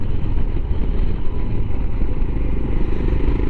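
A Royal Enfield Himalayan motorcycle under way, giving a loud, close, steady engine rumble mixed with rushing wind noise and no pauses.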